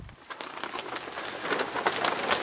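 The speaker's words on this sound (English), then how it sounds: "It's raining here" Rain pattering steadily on a tarp overhead in woodland, a dense close crackle of drops that grows slightly louder, with a faint bird cooing in the background.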